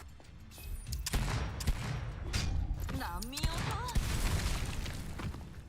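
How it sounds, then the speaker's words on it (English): Gunfire and an exploding barrel in the video game Girls' Frontline 2 (GFL2): several sharp shots and heavy booms burst over a dense game soundscape, with a voice talking over part of it. "I shoot that barrel"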